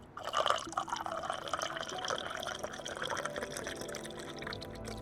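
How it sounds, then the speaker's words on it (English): Water being poured to refill a container, a trickling, splashing stream with small drips, fairly close and moderately quiet, continuous for a few seconds with no talking. "Okay, time to refill the water."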